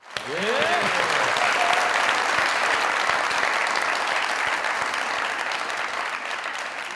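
A studio audience at a comedy show gives loud, sustained applause for a performer's entrance, a dense wash of clapping filling the whole stretch, with a brief voice at the start.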